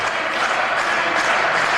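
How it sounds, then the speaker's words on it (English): Crowd cheering and applauding in a wrestling video game, a steady dense roar of an arena audience filling the whole stretch without pause. "the crowd's really getting into it now."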